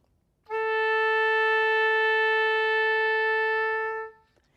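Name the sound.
oboe playing the tuning note A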